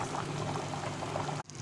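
Rice water for a beef chana pulao boiling in a pot, a steady close bubbling churn that holds throughout and then cuts off abruptly near the end.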